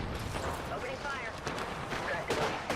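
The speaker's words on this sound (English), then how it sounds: "Opening fire." Video game gunfire crackles in a busy battle mix, with bursts of shots and explosive thumps beneath constant action noise, moderately loud and layered.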